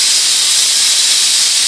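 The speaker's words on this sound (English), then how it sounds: "Now you can hear the steam coming out of there. Steam's coming out good." Steam vents from a pressure cooker after cooking ham, a loud continuous hiss rushing steadily without a break, close by and alone.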